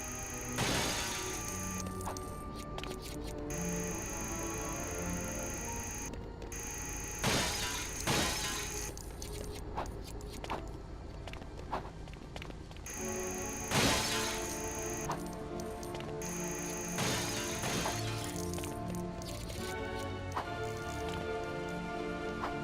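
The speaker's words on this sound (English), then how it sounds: "And don't leave without smashing up these windows as well." Glass windows shatter repeatedly in the video game LEGO Batman, a run of sharp breaking crashes and tinkling shards over steady background music.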